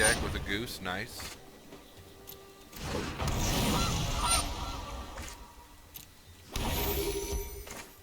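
Goose card honking in the digital card game MTG Arena, a few nasal honks amid game chimes and effects, with someone talking over them.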